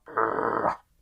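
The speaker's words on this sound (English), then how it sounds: "represented here by this fluffy dog wearing a muzzle" A fluffy dog wearing a muzzle lets out one close, sustained growl lasting under a second, rough and throaty against silence.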